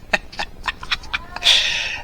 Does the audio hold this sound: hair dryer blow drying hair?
no